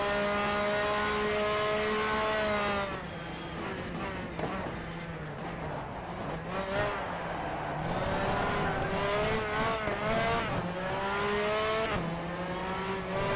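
McLaren race car in the GTR2 racing game, its engine whining and buzzing at high revs, pitch sweeping up through gear changes with brief drops, loud and continuous close behind the car.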